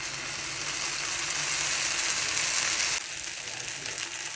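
Uttapam batter ladled into a pan with two spoons of oil sizzles and fries steadily and loudly, a dense hiss that drops slightly in level about three seconds in, with no voices.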